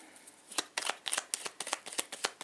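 Tarot cards shuffled and cut by hand in a quiet room, a run of about a dozen crisp, riffling card snaps in quick uneven rhythm, close and clear with no talk.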